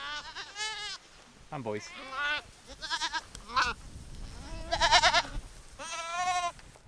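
Farm goats bleating near a fenced enclosure, a series of wavering, overlapping bleats from several animals, close and loud, with a person talking briefly among them.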